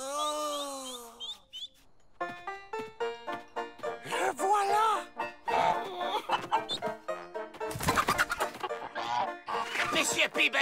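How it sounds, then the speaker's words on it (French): Animated, squawky clucking and bird-like cries of cartoon chickens mixed with excited voices and music, busy and loud throughout. "Monsieur Peabody, derrière vous, des poules avec des dents."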